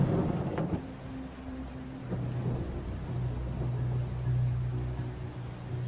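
Low, distant rumble of thunder from a storm brewing on the horizon, with a soft crack near the start and a steady windy, rainy wash beneath.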